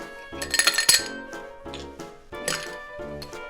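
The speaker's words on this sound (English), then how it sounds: "On top of that, I'm going to add some ice." Ice cubes clatter into a cocktail glass over squeezed lime while a Rum Rickey is built, two bright bursts of clinking and knocking close up with quieter settling between them.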